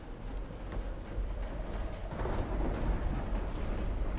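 Thunder rumbles through a storm in the video game Call of the Sea, a low continuous roll with faint crackles, swelling slightly toward the end.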